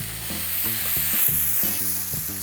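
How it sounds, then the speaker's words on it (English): A large prime New York steak is seared in a hot pan, giving a loud, steady sizzle and crackle with a faint rhythmic tapping or stirring running beneath it. "We're gonna sear it"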